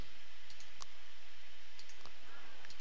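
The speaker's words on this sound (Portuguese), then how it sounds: "Vou clicar nele" A computer mouse in a NetBeans session gives a few sharp, close, isolated clicks against a steady faint hiss, with no voices in between.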